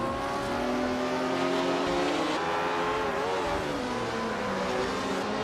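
Race cars on a circuit, among them a 1961 Cooper T55, roar loudly and steadily with engines revving and shifting pitch as they run, continuous and close with no voices.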